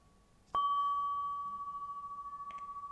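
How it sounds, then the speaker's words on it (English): A single meditation chime is struck once, ringing out with a clear, bright tone that sustains steadily and slowly pulses as it decays, with a faint second touch near the end in a quiet room. "I'm just going to sound my chime"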